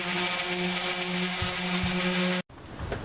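A power sander whirs steadily over a wooden project piece, a loud close tonal drone with a few thumps as it shifts, then cuts off abruptly near the end, leaving quieter shop noise.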